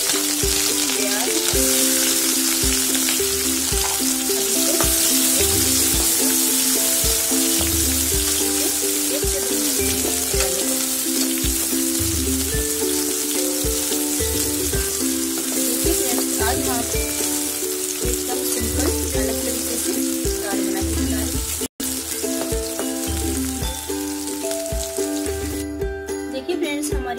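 Chopped green chillies and onion frying in hot oil for mixed dal, a loud, continuous close sizzle with occasional stirring clinks that carries on for nearly half a minute.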